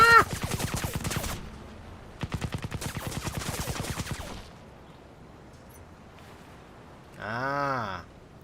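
Two rapid bursts of dual pistol gunfire in Crysis, each lasting over a second of fast, evenly spaced close shots, followed by a quiet gap and then a brief warbling electronic tone.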